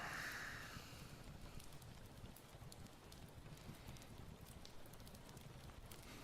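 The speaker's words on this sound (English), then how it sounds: "let's turn on our cozy fireplace track" A cozy fireplace ambience track plays a steady, soft crackling fire with dense small pops and hiss, low and continuous throughout.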